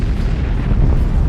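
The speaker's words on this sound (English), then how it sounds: "The Healy takes weapons fire from 3 very large alien vessels." Plasma bolts from large alien vessels strike a spaceship in an audio drama, a loud, deep, continuous booming rumble of impacts without any break.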